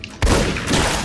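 Gunfire in Fallout: New Vegas: a sudden loud shot bursts in after a brief quiet moment and is followed by a rolling, noisy crackle that sustains to the end.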